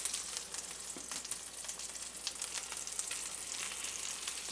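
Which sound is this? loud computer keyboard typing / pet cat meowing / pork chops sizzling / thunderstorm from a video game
pork chops sizzling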